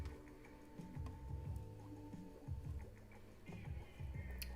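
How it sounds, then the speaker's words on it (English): A sewing machine running a straight stitch to topstitch a seam on a lingerie bralette, with a steady, close mechanical ticking and clatter in short runs and no talking. "just using a straight stitch to add top stitching"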